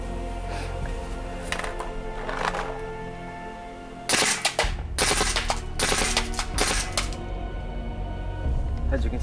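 A GOG G1 paintball marker fires in 3-shot burst mode, sharp clustered pops arriving in quick groups after a stretch of quieter handling noise, close and loud.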